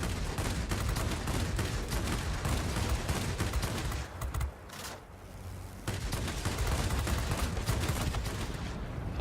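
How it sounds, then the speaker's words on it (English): Anti-aircraft fire in World of Warplanes, aimed at a tier VII Japanese Nakajima Ki-84 Hayate fighter, forms a dense, continuous roar of rapid gunfire and bursts that dips briefly midway, then resumes at full loudness. "we'll weave back and forth here a little bit to avoid some of this anti-aircraft fire"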